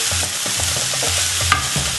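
An ingredient roasts in a hot pan for yam pottage with a steady sizzle and hiss. Soft scraping stir strokes recur throughout at close range.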